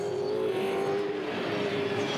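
V8 Supercars race at Sandown in 2010, their engines a steady, fairly distant roar with a constant high whine that holds through the moment, with no voices over it.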